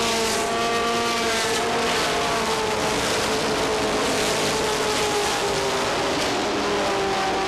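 Stock race cars racing at Lee USA Speedway, a pack of engines roaring loud and steady together with overlapping revving tones as they drive close by.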